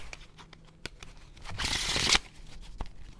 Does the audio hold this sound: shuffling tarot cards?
yes